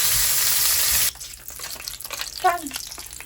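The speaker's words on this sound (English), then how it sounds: "just got done searing those" Food searing in a hot pan gives a loud, steady sizzle for about a second, then cuts off, leaving quieter clatter and a brief voice.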